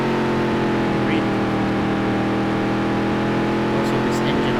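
A NASCAR race car engine in Dirt to Daytona holds a steady, loud, droning roar with no pauses, sounding continuous and close throughout.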